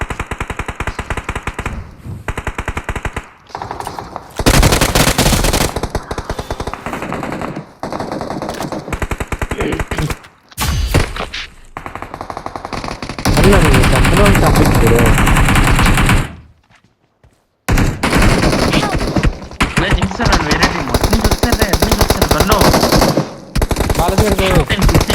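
Sustained bursts of automatic gunfire in a shooting video game, loud and close, rattling in long runs broken by short pauses and one near-silent gap.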